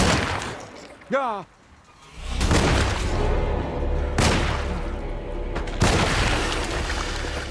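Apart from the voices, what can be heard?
gunshots at vine zombie in Alone in the Dark video game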